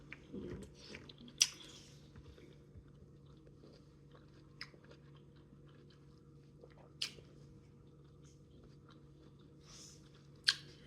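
Quiet, close chewing and biting on Chinese vegetable bean curd soup with snap peas, soft moist mastication broken by a few sharp crunches and clicks, with no talk.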